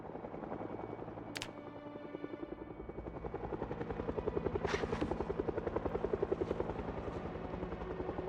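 Helicopter flying overhead in the video game Project Zomboid, a continuous rapid rotor thumping with a steady engine drone that grows slightly louder, interrupted by a few sharp clicks.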